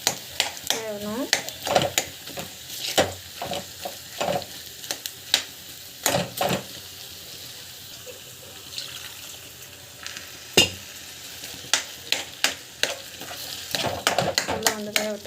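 Food cooking in a pan, stirred with a spoon, giving intermittent scraping and clattering strokes over a soft sizzle, some sharp knocks between quieter stretches.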